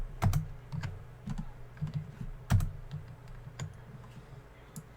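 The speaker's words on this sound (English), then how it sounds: "pressing Alt Enter puts the game in windowed mode" Keys tapped on a computer keyboard in a game setup, the Alt Enter combination among them: a few sharp, close clicks spaced irregularly, with two heavier presses standing out over quiet room tone and no talking.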